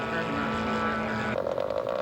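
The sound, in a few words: scale model aircraft coming in to land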